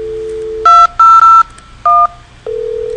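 DTMF keypad tones from an IP phone dialing a call from extension 2002 to extension 2001, four clear beeps of varying length between a steady dial tone at the start and end.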